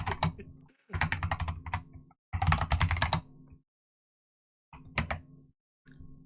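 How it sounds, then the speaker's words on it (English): Bursts of rapid clicking from a computer keyboard, typed in short runs separated by pauses of near silence, close and fairly quiet. "I'm typing in."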